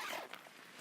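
A tent zip on a Kampa Brean 4 Air Classic inflatable tent is pulled closed in one quick, close rasping run that eases off and trails away quietly.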